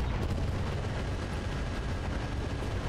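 A Gauss rifle on a BattleTech mech fires in heavy combat, a loud, dense, continuous blast-and-rumble that fills the whole stretch, with no talking.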